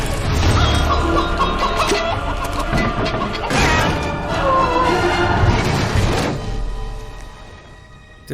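A chicken clucks in the game Fable 3 amid a busy, loud mix of crashing noise and ambient game sound, the fowl calls repeating across several seconds.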